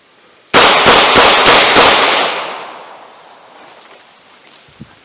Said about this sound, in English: Pull it up, one-handed, fire off 5 rounds.